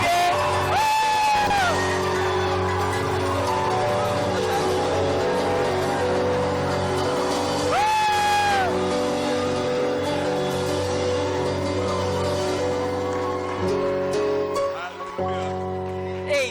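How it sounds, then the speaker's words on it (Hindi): A church congregation at a 2016 gathering in Mumbai, India, shouts, whoops and yells loudly together over sustained music, the roar rising in waves and holding for many seconds before easing slightly near the end. "I want you to give your loudest shout, jump, scream, somersault, everything you can"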